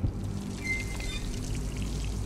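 Water pours and trickles steadily in Dishonored, a continuous splashing flow with a low rumble beneath, no voices.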